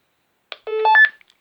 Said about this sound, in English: the receiving walkie-talkie will play the radio beep